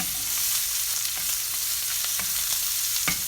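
Butter sizzling hard in a hot pan with a steak over medium heat, a dense continuous frying hiss with scattered crackles and pops.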